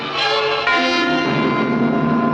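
The Orient Express in a film excerpt: a loud, sustained, chord-like train horn or whistle tone holding steady for a couple of seconds, close and alone.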